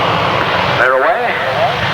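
Grasstrack race motorcycles pull away from the start at a 1992 meeting, a loud blend of engines rising and sweeping in pitch as they accelerate off the line.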